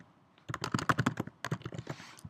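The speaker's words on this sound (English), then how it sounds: "I can start typing stuff." Quick, close bursts of keystrokes on a computer keyboard, an uneven clatter of clicks after a short quiet start, continuing in a busy run with a brief pause.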